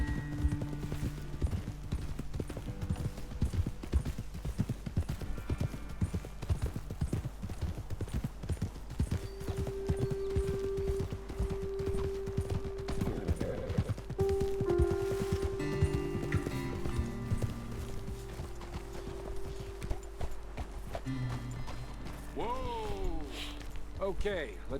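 Horses gallop with rapid, continuous clip-clop hoofbeats in a Red Dead Redemption 2 ride, close and steady for the whole stretch, with occasional snorts and a whinny near the end, and speech layered over the hooves.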